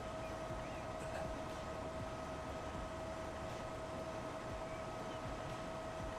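A train in the Transport Fever 2 game rolls through a station platform without stopping, a steady low rumble with a sustained tonal hum, moderately loud and unbroken, no talking.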